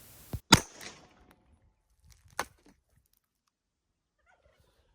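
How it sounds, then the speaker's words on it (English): Two sharp gunshots from a KelTec SUB2000 carbine fired at cans of expired beef outdoors, close and loud, the first with a brief echoing tail and the second following about two seconds later, with quiet between. "First up, we'll shoot some of these cans of expired beef here"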